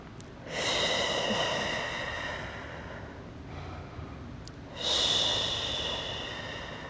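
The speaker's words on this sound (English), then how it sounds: "we're going to breathe here" Slow, close breaths during a static yoga core hold, with two strong inhale-exhale cycles and a softer breath between them, heard alone without talk.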